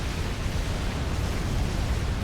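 A Supreme Commander explosion heard as a broad, rumbling wash of noise that stays loud and dense for about two seconds without a distinct sharp onset.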